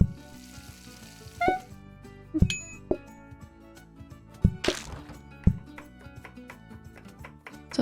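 In the cooking game PlateUp, food sizzles softly in a continuous layer under cartoonish kitchen clinks, dings and clangs that pop up at irregular moments over a light musical background.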